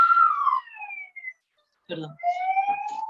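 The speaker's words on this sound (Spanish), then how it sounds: "Perdonad que hay una ambulancia y se cuela el sonido." An ambulance siren passes outside, its wailing tone sliding up and down, near at first, then fading and returning, with a person speaking over it.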